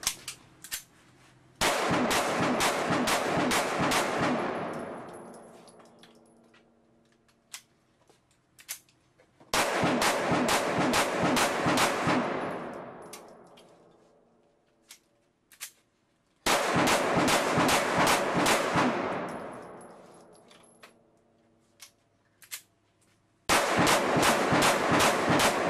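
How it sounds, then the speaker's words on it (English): Handgun firing long rapid strings of rounds during break-in, three loud sustained bursts of fast sharp shots each trailing off into quieter pauses, with a fourth burst starting at the end; no talking. "Alright, so we fired 500 rounds"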